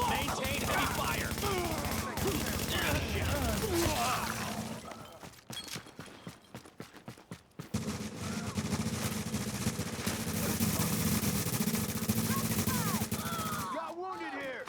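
Heavy gunfire in a video game, rapid overlapping bursts of shots and clattering impacts that fill most of the clip, easing briefly in the middle before resuming at full intensity.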